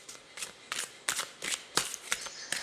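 Tarot cards being shuffled in repeated quick riffling bursts, about eight close, crisp papery flutters at an uneven rhythm with no talk over them.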